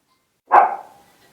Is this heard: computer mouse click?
no